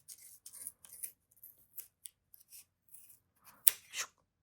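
Scissors snip along the centre path of a knitted ear-flap pompom winter hat kit in a quiet series of faint, crisp cuts, with one sharper snip near the end.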